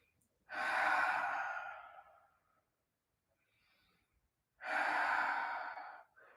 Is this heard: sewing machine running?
no